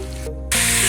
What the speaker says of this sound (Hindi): अभी हम प्याज़ों को ब्राउन कर रहे हैं।